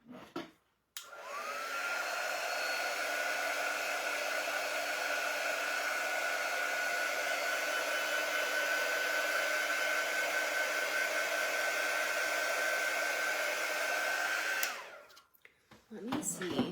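A hair dryer runs steadily for about fourteen seconds while drying a wood cutout, its close, loud whooshing drone holding one pitch from switch-on to a sudden cutoff, with brief rustling before and after.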